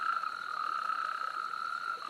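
Natterjack toad calling from a shallow temporary breeding pool, a loud, continuous rolling trill held steady and close throughout, with no other sounds.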